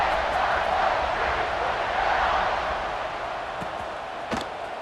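A football stadium crowd roars at an Ohio State versus Georgia college game, a dense, sustained wash of cheering that stays loud throughout and eases slightly near the end, with a sharp thud late on.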